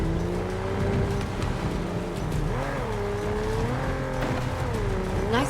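In the video game 007 First Light, a car engine holds a steady loud drone through a corner, its pitch dipping and rising as the car slows and accelerates, with tires scrubbing underneath.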